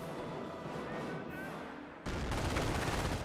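MG42 machine gun fire in the Company of Heroes video game, a muffled battlefield clatter that turns into a sudden, dense burst of rapid gunfire partway through, loud and sustained.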